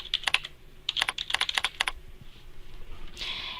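Close computer keyboard typing, bursts of crisp clicking keystrokes in uneven rhythm with a short pause midway, ending in a brief softer rustle.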